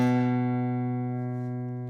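A single guitar note, second fret on the A string, rings out clearly and alone, sustaining steadily and fading slowly over two seconds.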